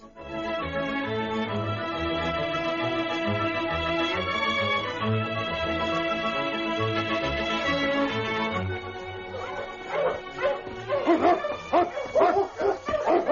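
A sled dog team barks and yips in a radio drama as it races across frozen Klondike ice, steady music underneath giving way to a burst of close, excited barking near the end.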